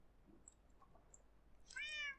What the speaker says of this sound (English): this is one of my other cats who decided to join me